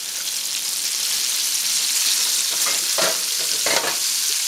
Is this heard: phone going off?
no